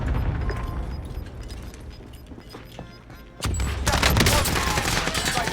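Gunfire in the video game Warzone, a sudden loud burst of rapid shots that erupts midway after quieter ambient noise and keeps rattling to the end.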